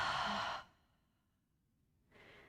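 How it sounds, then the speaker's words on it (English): A deep breath released out through the mouth, a soft breathy whoosh lasting about half a second, then quiet before a fainter breath follows, close and alone. "Maybe exhale out through the mouth."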